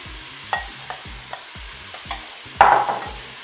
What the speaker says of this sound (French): Je vais maintenant ajouter les pommes.